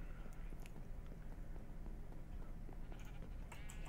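Sheep bleat in the Minecraft modpack Agrarian Skies 2, several soft baas rising from a crowded flock over a low background bed, with quick clicks and shuffling noises around them.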